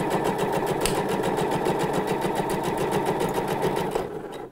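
A sewing machine stitches a neckline seam on fabric, running steadily at an even rapid pace for several seconds before slowing to a stop near the end.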